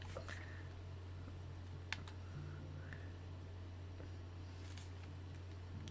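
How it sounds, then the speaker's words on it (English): Fast typing on a computer keyboard: very faint, sparse key clicks under a steady low electrical hum, with no talking. "I do type pretty quick"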